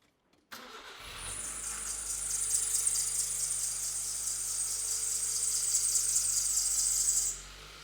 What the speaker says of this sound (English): wait for the battery to stop squealing